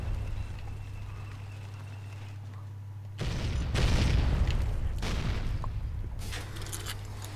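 A landmine goes off in a heavily modded Fallout game: a sudden loud blast breaks a low steady hum, then a rumbling, crackling tail follows with a second burst of noise near the end.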